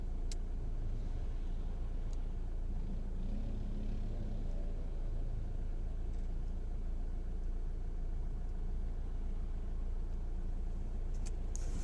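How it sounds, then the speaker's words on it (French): A car creeps along slowly in heavy traffic, its engine a steady low rumble and road drone throughout with faint passing noises; no one speaks. "regardez la circulation. On avance à 2 km à l'heure"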